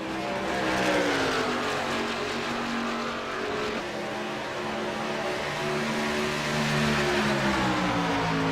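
Race cars roar past down the front straightaway of a circuit, several engines howling at full throttle with rising and falling pitch, loud and continuous for the whole stretch.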